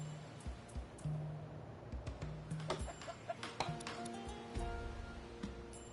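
Clucking of a chicken in the Citadelum city-building game, a few short clucks rising over a busy bed of game ambience and music, moderately loud and close.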